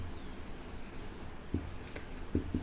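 Marker or chalk strokes on a classroom board during a grammar lesson, faint scratchy taps and short rubbing strokes over a soft room hiss, a few sharper touches near the end.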